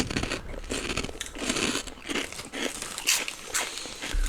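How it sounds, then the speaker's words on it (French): Someone chomps on a crunchy snack right at the mic, with a run of loud, uneven crunches and crackles and short pauses between bites. "Excusez-moi de vous croquer ça dans les oreilles"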